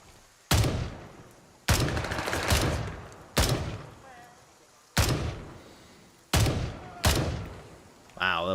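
A Remington fires in Gray Zone Warfare: six loud, close shots spaced a second or so apart, each boom trailing off in a long echo, with a voice briefly heard at the end.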